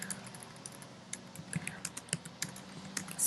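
Clicky computer keyboard keys tapped in irregular short bursts, close and fairly quiet, the keystrokes growing denser and louder toward the end.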